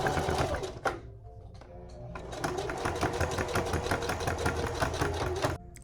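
Sewing machine stitching thick fabric for a monster cushion, rapid rhythmic mechanical clatter starting and stopping in bursts, then running steadily before cutting off, close and clear.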